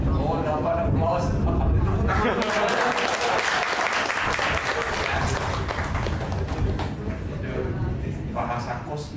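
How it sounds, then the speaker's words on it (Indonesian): Indoor audience at a spiritual talk breaking into sustained applause, a dense, steady wash of clapping lasting several seconds, with talk mixed in underneath. "dapat applause"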